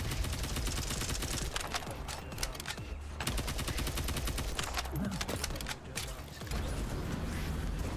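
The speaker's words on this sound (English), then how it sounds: "I like the sound of this weapon" Rapid automatic weapon fire from the video game The First Descendant rattles in dense, continuous bursts with brief pauses, loud and close, under faint mechanical clicks and some talk.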